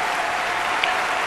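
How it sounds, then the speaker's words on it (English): Clapping sound effect: a dense, steady burst of applause-like clapping, loud and continuous for just over a second, with no talking. "my clap is working"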